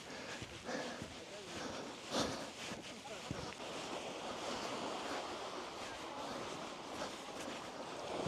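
Surf washes onto a beach at sunset in Scotland, a steady hiss of breaking waves with wind buffeting the microphone.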